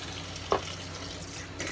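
Cold tap water running steadily into a sink before a cold water shave, a continuous close splashing hiss with a small knock partway through.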